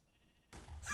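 A sheep in the Minecraft modpack Valhelsia 2 lets out one short, fairly loud bleat that starts abruptly halfway through, after near silence, and swells toward the end.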